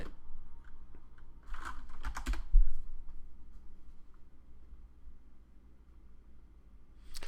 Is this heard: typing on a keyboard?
yes